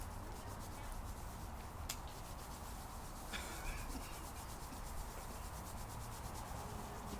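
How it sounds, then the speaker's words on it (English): Hands rub quickly together in a steady, rapid back-and-forth rhythm. The sound is faint and continuous against a quiet, cold outdoor background, and no one speaks. "So let's rub our hands together."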